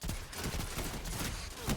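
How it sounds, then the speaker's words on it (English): Shotgun fire in the game Destiny, a burst of loud, close blasts packed into under two seconds, dense and booming with little space between shots. "we can be a little bit more liberal with our shotgun usage"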